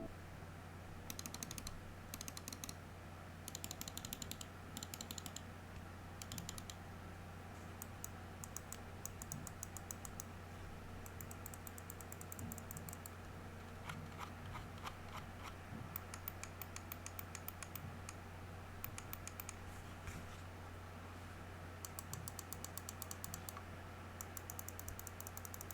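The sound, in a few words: Razer Viper Ultimate wireless mouse button clicks, sound test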